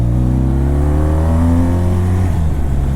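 A BMW R1200RT motorcycle engine pulls in second gear through an uphill hairpin turn, a loud, close, steady throbbing drone with its pitch rising slightly as it revs, with heavy wind noise and no talk.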